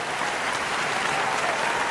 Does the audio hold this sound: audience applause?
yes